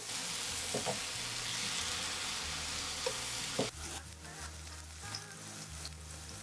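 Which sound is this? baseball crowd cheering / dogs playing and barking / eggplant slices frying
eggplant slices frying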